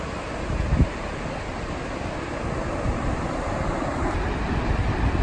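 Waves on a beach wash in a continuous, broad rushing surf with wind buffeting the microphone, steady and fairly loud throughout, with one brief thump near the start.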